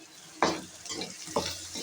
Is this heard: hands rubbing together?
no